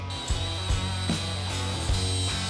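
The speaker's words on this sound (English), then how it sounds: "I've ground all the paint off it" A power tool grinds paint off bare metal ahead of welding on a GQ Patrol suspension build, a steady high whine with rhythmic low thumps and rattles, close and continuous.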